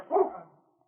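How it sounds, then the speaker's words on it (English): Police dog King gives a single sharp, close bark while attacking a man, then the sound fades out quickly. "This dog, get him off me."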